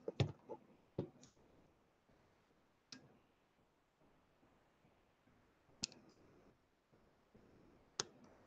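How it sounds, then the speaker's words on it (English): A micro SD card clicks into the card reader of a 4D Systems display: a few sharp, close clicks and small handling taps, scattered singly across a quiet background. "we will put the micro SD card back into the SD card reader for the display"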